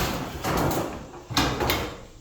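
A Tuff Shed 6 ft by 7 ft canister roll-up door being opened and then closed, with two loud rattling, rumbling sweeps, each ending in a sharp clatter, heard up close.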